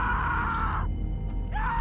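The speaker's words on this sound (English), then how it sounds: "Sarita gets bitten and it's just a stock scream from season 1 episode 3" A stock scream from The Walking Dead: Season Two video game, a loud, sustained, close shriek that breaks off and then returns after a short gap, with no talk.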